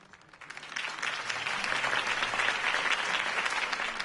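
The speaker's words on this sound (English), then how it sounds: "If only Mr. Wayne, my campaign's largest backer, could have heard that applause" A crowd applauds after a campaign speech in a PS4 Batman game, the clapping starting softly and quickly swelling into steady, dense applause that holds to the end.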